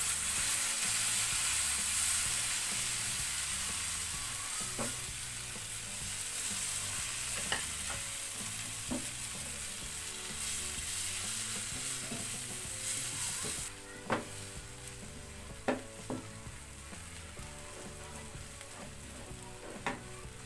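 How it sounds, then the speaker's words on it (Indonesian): Batter of flour and milk for fried pizza (pizza goreng) stirred in a pan, a steady soft sizzling hiss with scraping spoon strokes and several sharper clicks of utensil against the pan, no talking. "Ini kita aduk kembali sampai tercampur merata ya teman-teman ya"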